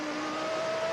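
Nigel Mansell's 1991 Formula 1 car at Imola during qualifying, its high engine whine shifting pitch as it threads the chicane, a steady loud tone under broadcast noise with no speech.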